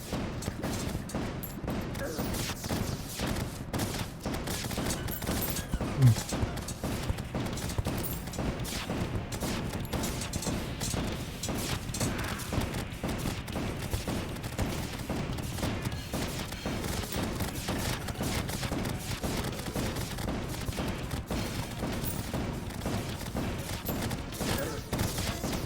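Rapid weapon gunfire in Terraria during the Plantera boss fight, a dense and unbroken stream of shots at steady loudness for the whole stretch, with a slightly stronger burst partway through.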